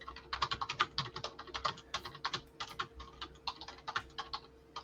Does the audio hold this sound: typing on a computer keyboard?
yes